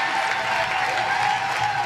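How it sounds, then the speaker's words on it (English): A studio audience at a comedy show claps steadily in dense, continuous applause, loud and close, with no voices on top. "Give a round of applause."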